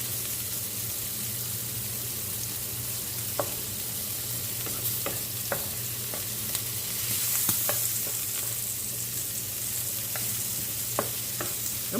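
Sausage, bacon and potatoes fry in a pan for a Saturday breakfast, a constant dense sizzle under a low hum, broken by sharp intermittent clicks and scrapes from turning the food.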